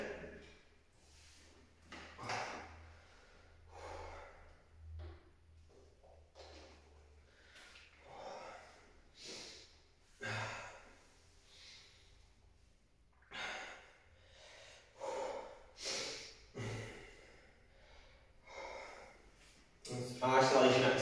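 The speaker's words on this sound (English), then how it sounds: "Deep breaths in." Heavy breaths, sighs and gasps from someone resting between chest and shoulder workout sets, recurring in slow, uneven waves close to the mic, with speech in between.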